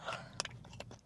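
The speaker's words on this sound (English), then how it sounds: "Is the cookie itself crunchier than normal?" Close bites and chewing of a crunchy brown sugar cookie studded with crystallized sugar bits, a few sharp crunches in quick succession, faint and intimate.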